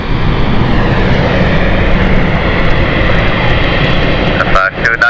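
Dash 8 turboprop airliner at London City Airport, a loud, steady engine roar and propeller drone holding throughout, broken by a brief dip near the end.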